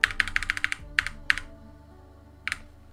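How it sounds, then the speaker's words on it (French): Computer keyboard keys pressed during Sims 4 house building: a quick run of about eight clicks, then two single taps, a pause, and one more press, close and crisp over faint background music. "Là, j'appuie sur 9."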